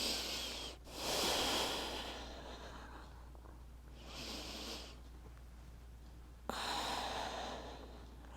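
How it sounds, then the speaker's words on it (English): Slow, deep breaths taken during a seated chair yoga stretch, several long airy inhales and exhales at an even pace, close and soft over a low steady hum, with no talking. "Keep coming back to slow, deep breaths"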